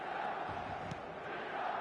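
Stadium crowd at a football match in a video game, a steady, dense roar of many voices that holds evenly throughout without clear peaks.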